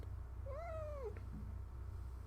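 A pet cat named Freya gives one clear, rising-and-falling meow close by over a constant low electrical hum, followed by a faint brief chirp and no speech.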